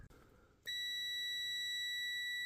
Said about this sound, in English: Test continuity through the magnet switch.